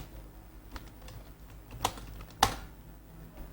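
Keys on a computer keyboard tap in a light, uneven run, a few strokes landing harder than the rest, close and fairly quiet with no voice over them.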